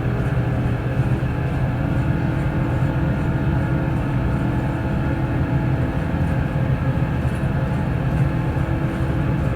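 Airbus A350 jet engines at takeoff thrust in Microsoft Flight Simulator, a loud, steady, dense roar with a heavy low rumble that holds unchanged throughout without speech.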